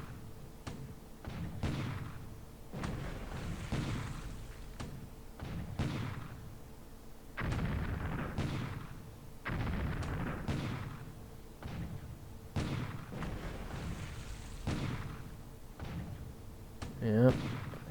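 Naval gunfire and shell hits in War in the Pacific, a World War II Pacific naval strategy game: repeated heavy booms and thuds at irregular intervals over a constant noisy background, with someone talking throughout.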